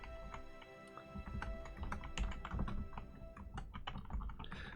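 Fast, continuous typing on a computer keyboard, the clicks of the keys clattering close and busy throughout over a low background hum.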